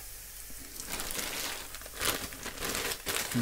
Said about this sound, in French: Là, on voit que l'huile commence à chanter. Et je les pose doucement.